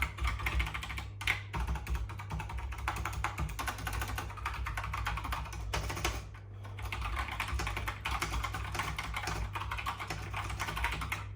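Rapid, steady typing on an Apple Adjustable Keyboard, a split beige vintage board, with dense overlapping key clicks at close range and a constant low electrical hum underneath, with no talking.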